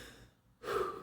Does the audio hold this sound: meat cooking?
no